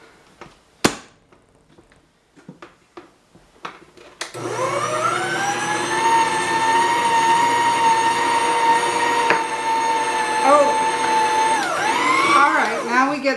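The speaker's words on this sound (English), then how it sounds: "do a little preemptive mixing" An electric mixer runs in a bowl of holiday treat ingredients, a steady high-pitched motor whine that starts abruptly after a few faint clicks and knocks, droning loudly for several seconds.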